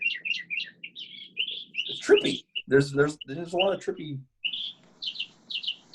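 Small birds chirp in quick high tweets around a room during a Zoom meeting, the calls repeating at the start and end while someone talks briefly in between.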